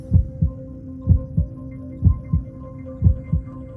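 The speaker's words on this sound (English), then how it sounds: "The first sound we hear is the sound of our mother's heartbeat." A slow, steady heartbeat: paired low thumps repeating about once a second over a faint hum, muffled and close.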